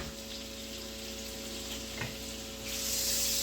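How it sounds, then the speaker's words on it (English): Onions dropped into melted butter in a pan give a steady broadband sizzle, with a brief clatter near the middle and the frying swelling louder toward the end; no one speaks. "While there's butter cooking, we're gonna drop some onions in here."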